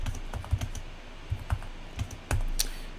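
Computer keys clack in uneven taps and pairs while code is edited, including quick shortcut presses, close and crisp, ending on a sharper double click.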